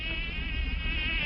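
A small honeybee buzzing, a thin continuous drone that wavers slightly in pitch, close and fairly quiet, heard alone without talk.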